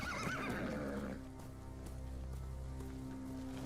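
A horse in a video game whinnies loudly with a wavering neigh, then its hooves clop steadily along beneath a constant game soundtrack hum.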